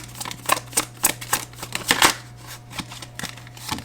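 Tarot cards being shuffled by hand, a run of crisp riffling bursts and soft flicks in quick irregular rhythm, close and fairly quiet with a faint low hum underneath and no talking.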